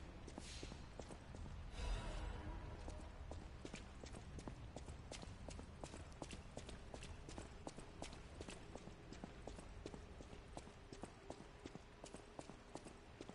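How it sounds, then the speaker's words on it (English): Steady footsteps of a character in the video game Lies of P, walking at a regular pace with crisp, repeated clip-clop-like taps throughout, fairly quiet, with a brief burst of noise near the start. "I'm gonna get tired of hearing his footsteps all the time."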